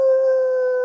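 A single sustained wolf howl from a video game, a clean steady tone held close and loud for under a second with no voices over it.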